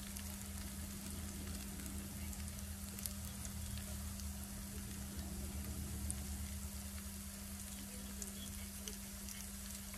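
Food frying in a pan, a quiet, continuous sizzle with scattered tiny pops over a steady low hum, faint and even throughout, no talking.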